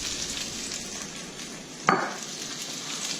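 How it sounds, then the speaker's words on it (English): Tomatoes go into a pan of sizzling garlic, and a low steady frying hiss is followed by a sudden louder burst of sizzle as they land, which then settles back down. "So I am going to add my tomatoes right now"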